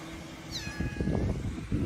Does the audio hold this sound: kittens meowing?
yes